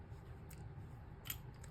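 A hole punch clicks through a paper mitten craft, two crisp snaps about a second apart, close and quiet over a low background hum.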